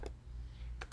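Quick keystrokes on a computer keyboard, a couple of crisp clicks near the start and a pair of taps near the end, close and faint against a low steady hum.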